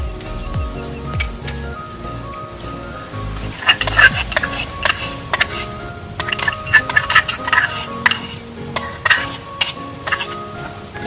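Vegetables stir-fried in a pan at a campsite in Ladakh, with a steady sizzle under repeated scraping and clinking strokes of a spoon against the metal, loud and close, no talking.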